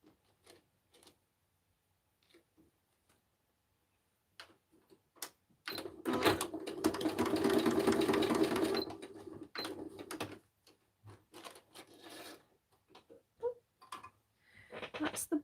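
A sewing machine stitches fabric scraps in a continuous whirring run of about three seconds, with scattered ticks and clicks of handling before and after in a quiet room.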